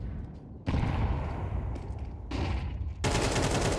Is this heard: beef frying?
no